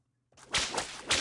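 A whip crack sound effect: a sudden swishing burst with two sharp peaks, close and fairly loud, after a brief silence and with no voices.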